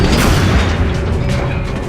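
A single heavy weapon shot in XCOM: Enemy Unknown, a loud, close, booming blast with a dense, rumbling low-end tail that fades out over about two seconds.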